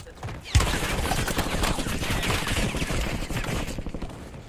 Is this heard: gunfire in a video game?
yes